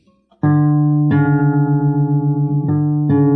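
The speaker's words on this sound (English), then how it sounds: "You can hear my open string D, it's very flat." An open D string on a guitar, badly flat and out of tune, is plucked several times in succession, each note ringing sustained and loud at close range with a slight wavering beat, no voices present.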